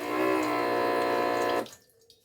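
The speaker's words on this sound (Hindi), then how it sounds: "अब जैसे ही मैं हाथ ले जाऊंगा IR सेंसर के सामने, ये देखिए हैंड वॉश हो गया" Water gushes steadily from an automatic tap triggered by an IR sensor and driven by a small motor pump on an IC 555 circuit, a close continuous splash that cuts off abruptly, leaving faint drips.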